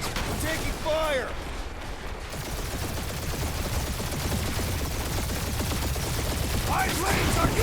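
Spaceship gunfire during a dogfight in Guardians of the Galaxy: rapid, dense streams of blaster shots crackling continuously under swelling battle noise, with short voice calls breaking in at the start and end.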